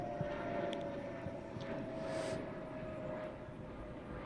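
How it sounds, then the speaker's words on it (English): An airplane passes overhead as a faint, distant, steady drone that swells slightly in the middle, with no voices. "I'll let this plane pass."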